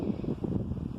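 Wind blows through a garden in Arizona, buffeting the microphone with a low, fluttering rumble that stays steady throughout.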